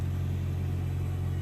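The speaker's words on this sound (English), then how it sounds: "you can see the traffic going by right there" Steady low rumble of road traffic passing at dusk, heard from a distance as a continuous drone with an even engine hum and no voices.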